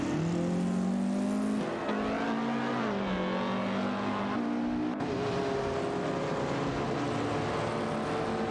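Classic race cars in a video game, including a Maserati A6 GC53 and BMW 2002 Turbo, drone steadily as their engines rise and shift pitch through gear changes. The cars sound tightly bunched and carry on continuously for several seconds.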